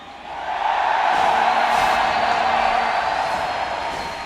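A large crowd at a League of Legends esports event in Anaheim roars and cheers continuously, swelling after a moment and holding steady as a broad, loud wash of sound.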